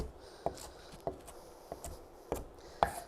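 A knife chops kale on a cutting board in five or six sharp, separate thunks spaced about half a second apart, fairly faint and close, with no talk.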